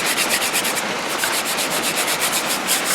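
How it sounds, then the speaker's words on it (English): Light hand sanding of a wooden gunstock with 600 grit sandpaper gives a close, steady hiss of quick back-and-forth strokes with one brief pause partway through, and no one talks. "And I'm just going to lightly sand this, just real lightly."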